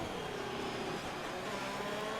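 Lewis's Ferrari Formula 1 car in an F1 video game at the Singapore circuit, its engine holding a steady, loud, high-pitched drone with a slight rising whine, heard alone without talk.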